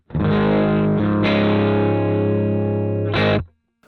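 Electric guitar through a ToneX profile of a Roland JC-120 on its crunch channel, with a sustained, lightly overdriven chord ringing out steadily, then a brief restrike near the end before it cuts off.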